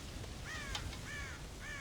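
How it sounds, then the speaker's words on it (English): Crows cawing in the western game Red Dead Redemption, a few harsh caws spaced apart over a low background rumble, with no talk. "God damn crows!"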